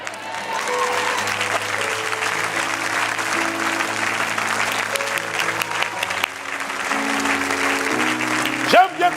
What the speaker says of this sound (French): J'aime bien quand tu acclames pour la vérité.